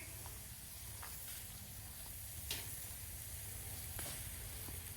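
Carne asada on a collapsible grill gives a steady, close sizzle with soft hissing and a few faint pops and ticks throughout.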